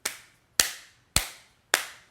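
Two wooden coasters, tile on their other faces, clapped together on their wooden sides: four sharp, close knocks spaced about half a second apart, each with a short dry decay.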